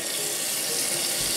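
Hot water pours steadily from a kitchen or bathroom faucet, a loud, continuous close-up hiss with no speech.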